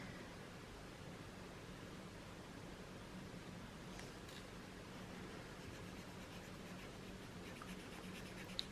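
A felt-tip marker scratches steadily across paper during coloring, a faint, continuous close-up rustle with light strokes and no voices.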